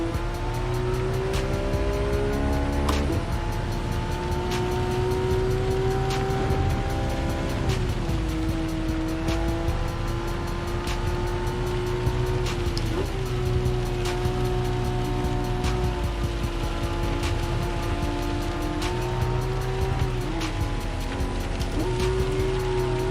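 Race cars in Gran Turismo 7 with engines revving steadily, their pitch rising and falling through gear shifts over a dense road and tire roar, loud and continuous with no speech.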